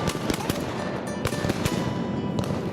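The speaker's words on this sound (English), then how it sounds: "We got some good shooting in there." Rapid gunshots on a hunt, a string of sharp cracks fired in quick succession, some close and loud, others lighter, echoing over steady outdoor background noise.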